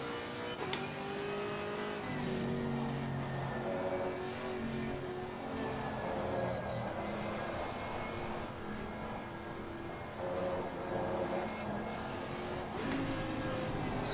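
A Bentley GT race car in Assetto Corsa Competizione accelerates out of the pit lane at Suzuka, its engine revving in continuous, moderately loud sweeps through the gears.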